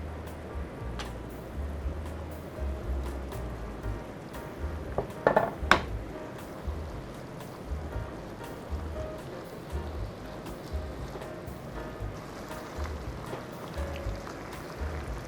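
Squid, broccoli and onion stir-frying in oyster sauce in a pan, with a steady close sizzle, soft stirring scrapes and a few sharp utensil clinks around the middle, and no voices.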